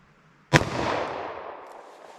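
A single sharp .38 Special handgun shot fired with Hornady Critical Defense ammunition, a loud close crack followed by a long fading decay with no talk.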